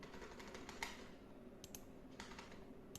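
Computer keyboard typing while text is deleted: quick, light key taps in a short irregular run, close and fairly quiet.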